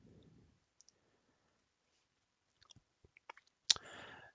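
A mouse click closing a program window, heard as a few soft, separate clicks close by, followed by a brief burst of louder rustling clatter near the end.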